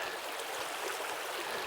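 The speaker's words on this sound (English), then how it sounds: "a river that goes through the middle of the forest" Steady broadband rush of a river flowing through autumn woodland in Maine, continuous and fairly close with no talk over it.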